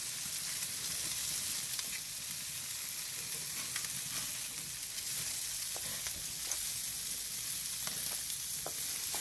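Bacon-wrapped rabbit sizzles steadily on a grill as the pieces are flipped, a continuous crackling fry with scattered pops and light scraping clicks, close and even in level.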